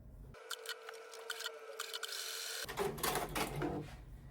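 A home sewing machine stitches a long seam straight through scrap fabric, its steady, close motor whir running unbroken for about two seconds before giving way to fabric rustling and handling.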